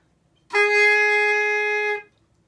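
A single bright, reedy saxophone mouthpiece tone at concert G sharp sounds steadily for about a second and a half, then stops cleanly.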